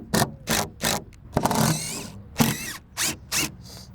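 A power drill driving screws into a wooden fence board, heard as a loud close series of short whirring bursts in an even rhythm, with a longer grinding run in the middle.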